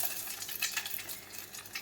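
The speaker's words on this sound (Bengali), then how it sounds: "ডিমটা ফ্রাই হচ্ছে।" An egg fries in light oil with a soft, close, crackling sizzle, fluttering and uneven over a brief stretch with no talk.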